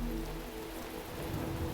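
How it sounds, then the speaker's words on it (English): Steady rain falls throughout in The Talos Principle video game, a constant close hiss of drops on surfaces with no other sounds standing out. "Or are we gonna do all these puzzles in the dang rain?"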